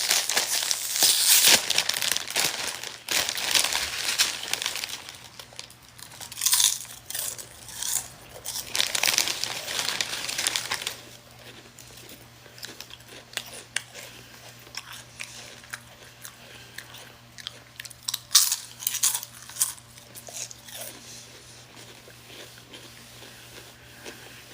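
Chips crunched and chewed close to the mic, with a bag crinkling in busy bursts that ease into quieter, steady munching before picking up again near the end, all with no talking.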